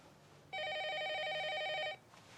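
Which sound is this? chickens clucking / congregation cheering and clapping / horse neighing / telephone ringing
telephone ringing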